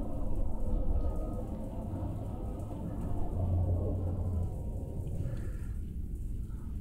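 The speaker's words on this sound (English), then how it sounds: "Active dust storm." Martian dust storm wind in the Lacuna Passage exploration game, a continuous low roaring rumble with no breaks, loud and even throughout with no voices.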